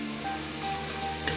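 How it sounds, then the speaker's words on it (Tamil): Banana flower sautéing in a pan for biryani, a soft steady sizzle with light stirring, close and moderate in level, no talking. "வாழைப்பூவை சேர்த்துட்டு ஒரு 1 மினிட் அளவுக்கு வதக்கிக்கோங்க"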